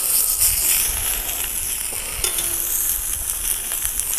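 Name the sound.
oxtail frying and sizzling in a pan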